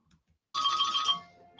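A phone ringtone starts suddenly after near silence, a bright electronic trilling melody, loud and close, lasting about a second before fading slightly.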